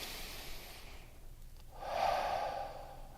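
Slow, close breathing during a quiet meditation practice: a soft exhale fades out, a brief pause follows, then a fuller airy inhale through the nose swells and tapers, with no talk.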